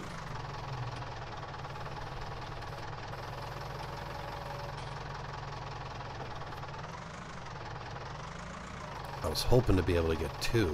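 A small, light tractor engine runs steadily while baling straw, a low, even chugging drone throughout with rattling noises near the end, and someone talks over it.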